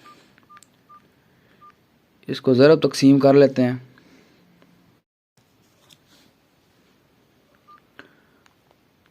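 Mobile phone keypad tones as numbers are entered for a calculation, a few short isolated beeps spread across the clip, with a burst of spoken talk in the middle.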